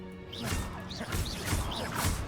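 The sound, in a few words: smashing pots in video game Hogwarts Legacy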